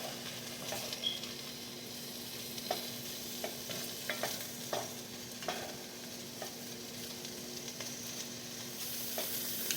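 Skinless sausages brown in a dry pan with no oil, giving a steady soft sizzle under occasional scraping and stirring clicks from a utensil, close and even throughout.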